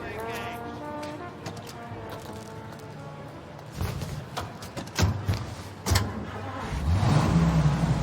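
A car driving in the video game Mafia Definitive Edition, its engine running steadily and then revving and accelerating near the end, with a few short knocks along the way and no one talking.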